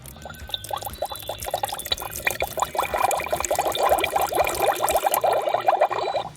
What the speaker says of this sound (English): pouring in the water